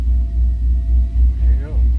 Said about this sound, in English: Put it in third gear here, let the clutch out.